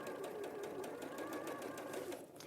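A sewing machine stitches fabric in a quick, steady run of needle strokes, a continuous mechanical whirr with regular ticking, fairly quiet and close.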